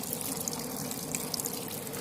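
Water pumped to the top of a bio-active Exo Terra paludarium falls back down as a small waterfall. It makes a steady close trickle with bright little drips and splashes over it.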